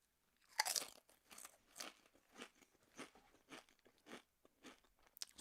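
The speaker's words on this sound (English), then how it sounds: "good Doritos crunch" Nacho cheese Doritos chips are crunched and chewed close to the mic, a loud first bite followed by a steady series of crisp crunches roughly every half second, quiet between bites.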